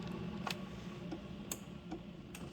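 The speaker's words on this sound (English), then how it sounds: "Now you hear it ticking to start running." A Keurig K Duo single-serve and carafe coffee maker ticking as it begins brewing, with a few soft, irregular clicks over a low steady hum, fairly quiet.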